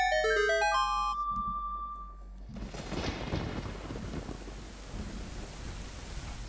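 In The Legend of Zelda: Ocarina of Time, a short chiming ocarina tune gives way to a thunderstorm, with a rumble of thunder and steady hissing rain that fills the rest of the clip.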